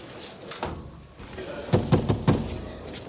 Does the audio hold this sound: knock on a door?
yes